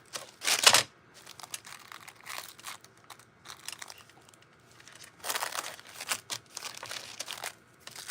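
Scissors snipping excess textile foil from a baseball cap, with crinkly crackling bursts of the thin foil, a loud crumple near the start and more scattered cuts and rustles throughout, close up and without talk.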